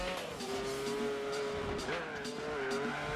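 A Ford GT racing in Gran Turismo 4, its engine holding a steady loud drone with brief pitch dips at gear changes and tire squeal mixed in, while someone talks over it.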